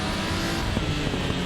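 A Porsche Cayman GT4 engine drones steadily and loudly from the cockpit in the RaceRoom racing game, a dense continuous roar with no voices over it.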